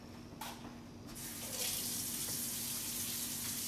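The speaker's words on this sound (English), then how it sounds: "So I want to wash my hands again." A kitchen sink tap switches on with a click and runs in a steady, close hiss of flowing water, with a few faint handling knocks as hands are washed.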